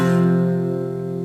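Barre chord on the 5th fret from a song, a single strum left to ring, close and full, slowly decaying with no voice.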